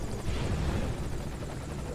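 A helicopter in Metal Gear Solid V thrums steadily with a dense, continuous rotor and engine drone, close and moderately loud throughout, with no talking.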